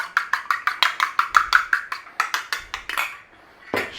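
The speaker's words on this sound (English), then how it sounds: "Give the egg a beating, just makes it a little bit easier in a minute." Egg being beaten with a utensil in a bowl beside mashed potato and flour, a fast steady run of close, bright clacking strokes that slows, pauses, then gives one last clink.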